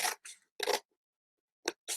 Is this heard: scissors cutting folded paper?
yes